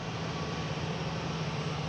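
A Boutique Air airplane at Boston Logan airport gives off a steady, moderately distant engine drone with a faint tonal hum, and no one talks over it.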